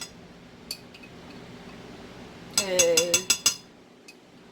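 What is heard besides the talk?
teaspoon scooping caramel sauce from a jar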